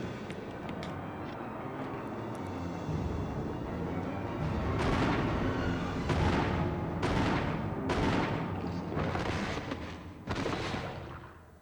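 Gunshots from a self-defense gun in Resident Evil on the Wii: a run of about six loud, sharp blasts, each with a ringing decay, fired at uneven intervals over a low rumbling background.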